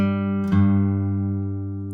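A single plucked acoustic guitar note, fretted at the first fret of the sixth string, rings out with a soft second pluck midway, sustaining and slowly fading, no voices.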